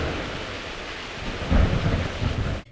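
A thunderstorm in the Roblox game Neighborhood of Robloxia brings steady rain hiss, then a deep roll of thunder swells midway and fades out.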